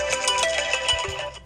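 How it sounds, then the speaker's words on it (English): A phone's daily alarm goes off, playing a bright, steady ringtone melody at close range before cutting out. "That's just a daily alarm that goes off."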